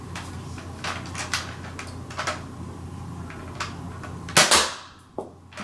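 Nerf ZombieStrike Hammershot blaster, a series of plastic clicks and clacks from the hammer being pulled back and the trigger pressed, ending in a sharper louder snap and a final click, close with no speech.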